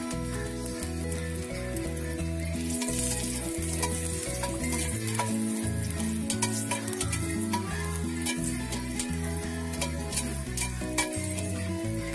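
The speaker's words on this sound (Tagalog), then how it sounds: "Ilalagyan lang natin siya ng mantik ay bawang." Garlic frying in oil in a kawali pan gives a steady, close sizzle with occasional stirring, set against continuous background music throughout.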